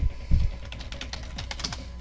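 Rapid keystrokes on a computer keyboard clatter in an irregular stream of light clicks, fairly close, with a low thump near the start and no voices.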